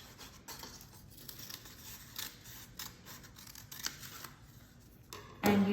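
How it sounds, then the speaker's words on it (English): Scissors snipping off excess material from a stapled pine-cone craft base, a run of soft close cuts and rustling scraps ending in a louder final snip. "Now you can cut off the extra."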